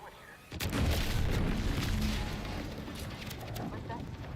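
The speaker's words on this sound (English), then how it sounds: "What's that? An explosion?" A sudden loud boom in the video game The Outer Worlds 2 erupts about half a second in, then rolls on as a sustained, rumbling roar with crackling debris that slowly tapers without fading out.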